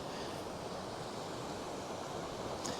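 River water pouring steadily into a falls pool on a salmon river, a continuous broad rushing roar heard close and unbroken throughout, with no talk.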